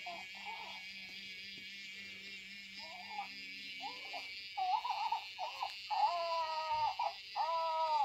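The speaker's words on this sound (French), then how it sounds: "Oh, il pleure." A Hatchimals Hatchibabies toy cries electronically while hatching from its shell, repeated short whimpering bursts over a steady high electronic hum, growing louder and more frequent toward the end.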